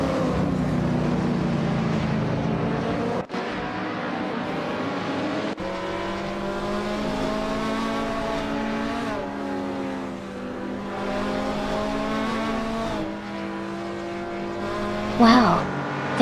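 Race cars from a racing video game battle for the lead, their engines holding a steady rising whine with gear-shift dips and overlapping pitches, near and loud, with a brief sharp burst near the end.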